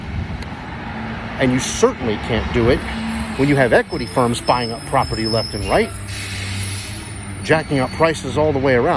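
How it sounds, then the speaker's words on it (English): A garbage truck rumbles by outdoors with a hissing burst of its air brakes, a heavy, loud presence beneath someone talking steadily. "Sorry for the noise. That's a garbage truck."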